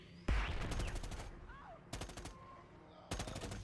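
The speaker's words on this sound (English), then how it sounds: "we're getting shot from behind" Gunfire in the Predator: Hunting Grounds video game: three rapid automatic bursts, the first longest, with quieter game sounds and faint voices in between.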